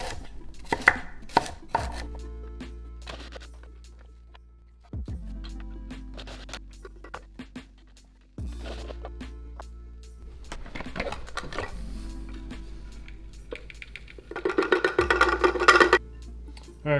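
Cauliflower is chopped into rice in a food processor, with loud whirring bursts of the blade separated by short pauses and some knocking of the bowl, close up.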